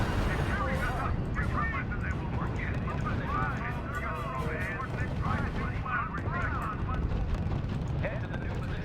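Battle sounds in the strategy video game R.U.S.E., with rolling artillery and gunfire rumbling beneath steady radio-style unit voices and layered effects throughout.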